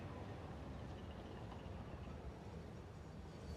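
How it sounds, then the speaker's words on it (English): A freight train with containers arriving in the factory-building game Satisfactory, a steady low rumble that holds at an even, moderate level without any talk. "Okay, here comes the train."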